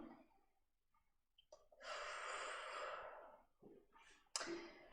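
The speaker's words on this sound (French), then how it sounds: "On prend une grande respiration." A deep breath: a slow, drawn-out inhalation with a long airy rush, followed by a softer exhale and a short sharp intake at the end, close and quiet with no talking.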